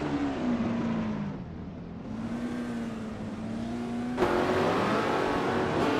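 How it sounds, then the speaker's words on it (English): A 1968 Lola T190 race car engine racing on the Adelaide circuit, revving and falling with gear changes, the droning pitch climbing and dipping, then jumping up sharply near the end, with no voices. "The Chaotic Weirdo is racing a 1968 Lola T190."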